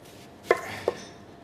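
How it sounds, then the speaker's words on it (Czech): Two sharp knife strokes on a cutting board while chopping onion and vegetables for a roast, with a short gap between them, close and fairly quiet against a still kitchen background. "nakrájíme si zeleninu, jak je třeba z cibule"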